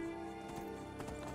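Horse hooves clip-clop in Skyrim, a few soft muffled steps beneath a steady layered game music bed, faint and brief.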